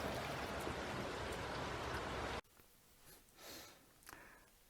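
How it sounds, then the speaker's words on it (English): Heavy rain pours down in a dense, steady hiss for a couple of seconds, then cuts off abruptly to quiet with a few faint soft sounds. "It's pouring with rain at the moment"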